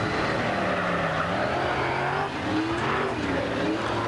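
A race car on a Hav-A-Tampa Series qualifying lap in a Warrior chassis roars continuously and loudly, its engine pitch climbing and falling through the lap, with faint voices beneath.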